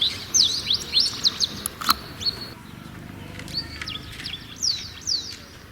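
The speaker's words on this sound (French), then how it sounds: "L'oiseau chante" A bird singing outdoors at a health centre in Rwanda, repeated high chirps and twittering phrases, near and clear over a low background hum, with no talking.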